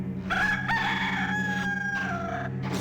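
A rooster in the video game Discworld II crows loud and close, one long drawn-out cock-a-doodle-doo over a low hum.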